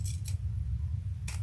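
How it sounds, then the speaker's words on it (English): Scissors snip through the bulky zipper tape of a crossbody bag, with two quick close crisp cuts at the start and another near the end, no voices. "So we're going to cut off a 1/2 inch here without cutting that seam allowance."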